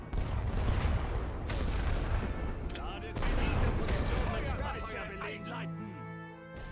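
Artillery and rifle fire in the World War I strategy game The Great War: Western Front sound as dense overlapping booms and rolling gunfire, loud and continuous, ending in a quieter stretch with a few distant blasts.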